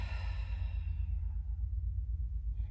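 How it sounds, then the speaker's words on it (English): A long, breathy exhale during a Pilates breathing exercise, steady and close, with a low rumble underneath throughout. "And again, exhale."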